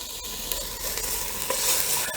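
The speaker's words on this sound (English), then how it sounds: "my onions are grilling up really nicely here" Onions sizzle as they grill in a pan, a steady close crackling hiss with faint stirring, and no voices.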